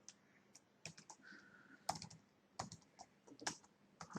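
Keys tapped on a computer keyboard in quiet indoor surroundings, irregular clusters of crisp, close clicks with short pauses between them, heard alone.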